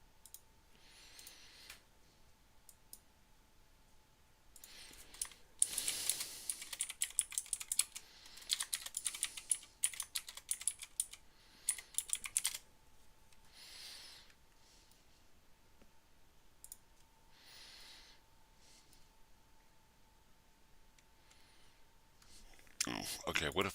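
Rapid computer mouse and keyboard clicks while building a game, clustered in busy bursts near the middle and again at the end, moderately close, over a steady faint electronic hum with occasional soft speech.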